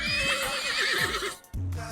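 A mare neighs loudly and close in one long, wavering whinny, followed by a brief pause and a low snort or shuffle, with faint hoof movement underneath.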